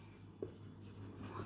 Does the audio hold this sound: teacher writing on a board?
yes